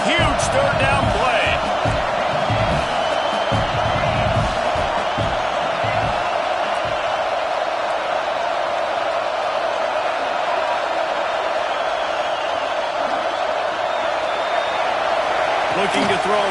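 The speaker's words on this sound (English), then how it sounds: "Big noise in the big house for this huge third down play." Stadium crowd roaring at Michigan's Big House during a third-down play against Nebraska, a sustained loud wash of noise held throughout, with a broadcast commentator's voice over the top early on.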